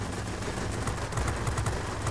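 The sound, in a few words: machine gun fire from aircraft guns in World of Warplanes video game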